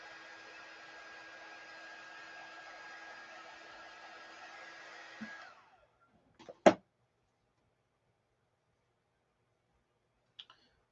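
A hair dryer blows a steady, even whoosh for about five seconds while drying a transfer on an acrylic sign, then shuts off, followed by a few faint clicks and handling knocks in quiet.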